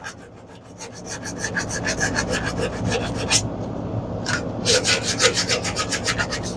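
An old sanding disc taken off a sander, rubbed by hand against a rusty magnet from a Honda small engine, making a steady, close rasping scrape in repeated strokes with no talk.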